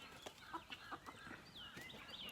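Chickens cluck and chatter in short, soft bursts at a moderate distance, a faint farmyard chorus with no voices over it.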